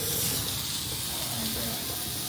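Steak cooking on a hot stone at a steakhouse, giving a steady bright hiss of sizzling that fills the whole stretch at moderate loudness with no voices.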